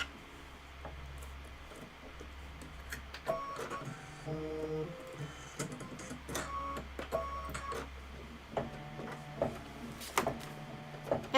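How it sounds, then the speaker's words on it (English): An embroidery machine stitches stripes onto the end of a scarf, giving a close, steady mechanical whirr with rapid needle ticks and clicks that grow more pronounced toward the end, with no talking. "this is going to stitch out the stripes at the end of this scarf."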